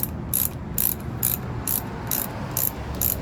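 Bolt being tightened on a Harley-Davidson trunk mount for a passenger cup holder, a steady series of about seven quick ratchet clicks in an even rhythm, close and fairly quiet over a low background hum.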